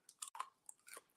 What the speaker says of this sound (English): Y'all hear that crunch?